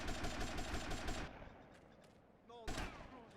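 Grand Theft Auto Vice City gunfire rattles in fast, loud automatic bursts, then stops into a quieter stretch with a brief whistling tone before another sharp burst hits near the end.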